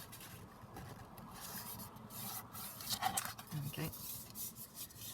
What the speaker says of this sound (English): start folding the page up